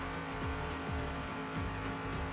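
Speeding car in the video game Rope Hero Vice Town, its engine droning loudly and continuously with repeated falling pitch sweeps as it races out of control.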